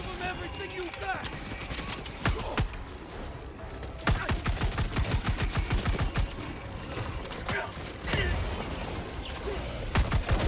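Dense gunfire in the video game Helldivers 2, with rapid bursts and single shots cracking in uneven clusters and a heavy volley near the end, loud and close throughout.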